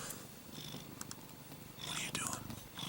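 A cat purrs close by in a steady, soft rumbling rhythm that swells slightly toward the end, with faint breathy noise around it.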